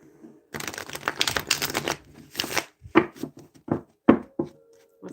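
Cards riffle-shuffled several times in quick rustling bursts, followed by a few sharper separate taps and slaps as cards are cut and handled, close and moderately loud with no talking.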